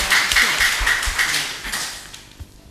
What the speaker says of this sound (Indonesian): Kita berikan aplaus dulu kepada mereka